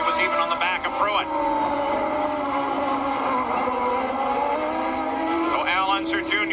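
A 1994 CART IndyCar rounds the final turn to the checkered flag at Mid-Ohio, its high engine whine loud and sustained with rising and falling pitch sweeps as cars pass, under excited race commentary.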